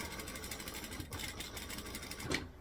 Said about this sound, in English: I'm just going to come in and stitch right next to my binding.